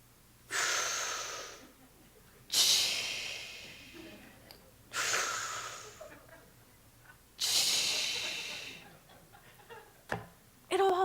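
Four slow, deep breaths alternate between long airy inhales and exhales, each lasting about two seconds and heard close up with a hissing quality, with short pauses between them and a small sniff at the end.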